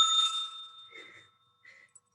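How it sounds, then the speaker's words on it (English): A hand bell is rung once, giving a bright, ringing strike with a sustained tone that slowly decays, followed by a couple of fainter clinks as it settles. It sounds close and stands alone with no talking. "they are allowed to ring this bell"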